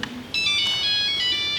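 Mobile phone ringtone chiming in a bright melodic pattern of sustained tones, starting abruptly after a brief quiet moment and ringing on steadily, fairly clear and close, no talk over it.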